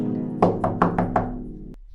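Five firm, evenly spaced knocks on a wooden door, close and loud, ringing with a resonant thud and followed by a brief sharper tap.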